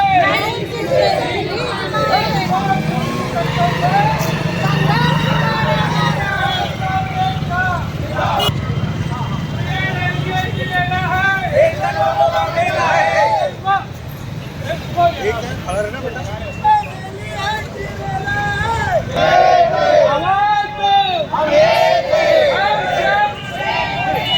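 Employee unions marching in protest through Burhanpur, a dense crowd murmur of many voices with shouts and chatter rising and falling, steady and close throughout.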